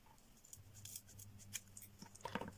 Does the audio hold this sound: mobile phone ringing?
no